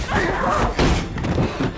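In a horror film scene from The Exorcist: Believer, a door slams shut. Heavy, loud thuds land close together, with some voice running under them.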